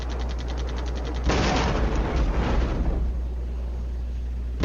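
Off-map artillery fire and explosions in a wartime strategy video game, heard as a rapid rattle of shots followed by a loud, dense burst of blasts that tails off into a continuous rumble.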